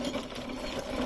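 A hand-turned coffee pulping machine strips fruit from coffee beans with a steady whirring, rattling mechanical drone, close and continuous throughout.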